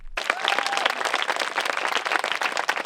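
Audience applause at an evening summer performance by young musicians from the Maribor Conservatory of Music and Ballet in a botanical garden: dense, sustained clapping from a crowd that starts abruptly and holds steady and loud throughout.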